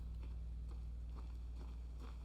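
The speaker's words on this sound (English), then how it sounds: "but I'm hearing footsteps" Footsteps in a puzzle video game land as a steady run of soft thuds, faint and somewhat distant, beneath a constant low hum.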